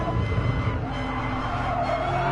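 Race car in a racing video game braking hard into a corner, a steady loud engine drone with tyre skid noise running throughout, no talk.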